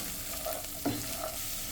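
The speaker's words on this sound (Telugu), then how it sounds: "ఇప్పుడు సన్నగా కట్ చేసుకున్న బీన్స్ అలాగే క్యారెట్ కూడా వేసేసుకోవాలి. ఒకసారి బాగా కలిపేసుకుందాము." Thinly cut beans and carrot stir-fried in a pan, a steady sizzle with a couple of soft scraping stirs and a brief clink of a utensil against the pan, close up and without talk.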